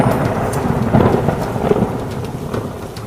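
Heavy rain and rumbling thunder as a stage-drama sound effect for a storm over Vrindavan, a loud, dense, continuous downpour with low rolling thunder and no voices.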